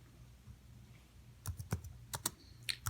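Fingers type on a computer keyboard after a quiet pause, producing a series of crisp, close clicks in irregular bursts.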